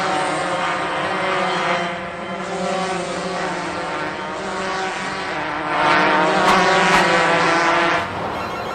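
Cartoon go-kart engines whine and drone as a race gets under way, a steady buzzing with tonal pitch shifts that swells louder toward the end.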